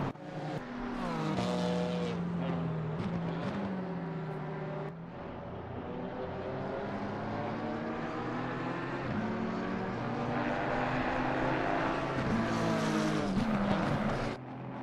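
A McLaren GT race car in Assetto Corsa Competizione, racing through traffic at Laguna Seca toward the corkscrew, roars with a high revving engine that rises and drops with gear shifts, loud and sustained throughout.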